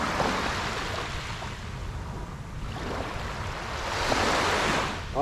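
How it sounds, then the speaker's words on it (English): Ocean surf breaking at sunrise on a Thailand shore, a steady wash of waves that swells louder toward the end, with wind noise brushing the microphone and no voices. "You like the sound of the waves?"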